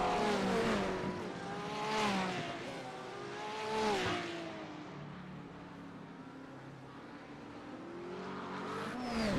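Grand-Am race cars in a racing video game on the Long Beach street circuit, their engines rising and falling in pitch as they pass, loud at first, then fading and building again near the end.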